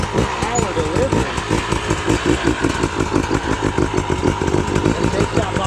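A dirt bike engine on a hard enduro trail chugs and revs in lumpy, rhythmic pulses as the rider feathers the clutch, loud and close throughout.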